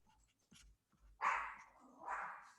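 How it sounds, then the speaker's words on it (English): A dog somewhere nearby gives a couple of short, muffled barks and whimpery yelps after a few faint thumps, fairly quiet and alone. "I hope you're enjoying the dog barking."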